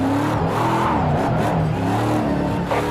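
Chelsea DeNofa's RTR Ford Mustang drifting in Project Cars 2, engine roaring loud and continuous with wavering revs and tire squeal throughout, no voice heard.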